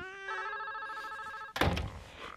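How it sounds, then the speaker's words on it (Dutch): A telephone bell rings in a steady, trilling electronic tone for over a second, then cuts off abruptly as the handset is picked up with a loud clunk and rustle, all heard indoors and close by. "Dan giet de telefoon."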